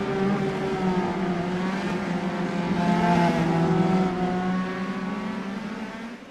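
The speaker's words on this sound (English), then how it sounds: "Get a good look at this field as they pull away out onto the Iowa Speedway." Race cars from a Tatus-built oval series in the iRacing sim pull away at Iowa Speedway, a pack of engines droning and rising together in a steady, close, continuous roar with layered harmonic whines.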